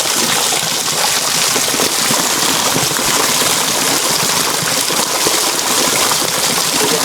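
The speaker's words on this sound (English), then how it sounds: "as it's falling, as the water is coming down, it is channeled to the ponds" Water falls and rushes steadily into channels feeding crocodile ponds, a loud, continuous broadband gush with no pauses across the whole stretch.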